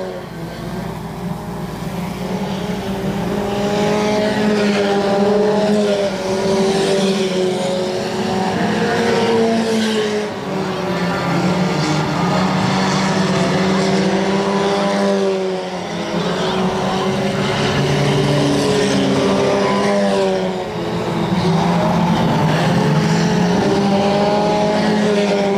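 Race cars roar around a dirt oval at Nevada Speedway in Nevada, Missouri, a dense, continuous engine drone rising and falling as the pack circles, loud and steady throughout with commentary faintly underneath.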